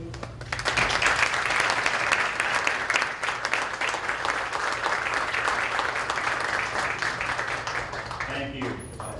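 An audience applauds to welcome a speaker at a public affairs talk, sustained steady clapping from a crowd for about eight seconds before it fades out.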